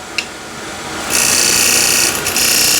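A steel card scraper's burr dragged across wood, a steady high-pitched hissing scrape that starts faint and grows louder after a brief tap, continuing evenly close up with no talking.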